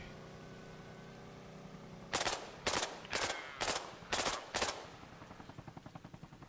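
Armor-piercing rounds in ARMA Reforger: six loud, evenly spaced gunshots crack out close by, each with a short ringing tail, followed by a quicker, fainter burst of rapid clicks.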